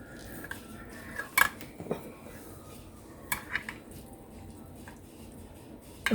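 Spoon scraping and clinking against a baking dish while serving Mexican lasagna, a handful of scattered metallic taps and scrapes, soft and close, no talk.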